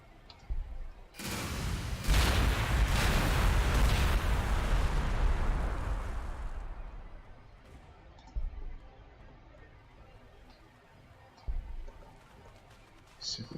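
Heavy gunfire and explosive blasts aimed at a fortress in a video game, a loud booming barrage that rolls on for a few seconds, fades into a long decay, and is then followed by scattered sharp shots.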